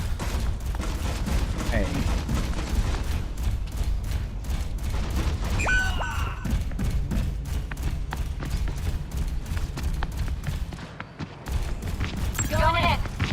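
Enemy turret gunfire in a video game, rapid dense bursts of shots running almost throughout amid loud game noise, with a voice briefly calling out.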